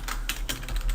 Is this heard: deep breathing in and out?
no